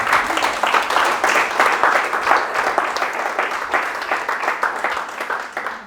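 Church congregation applauding the Lord, sustained loud clapping from a crowd filling the room with steady rhythm, slowly fading toward the end.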